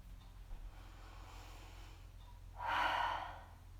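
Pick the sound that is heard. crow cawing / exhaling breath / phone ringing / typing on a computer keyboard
exhaling breath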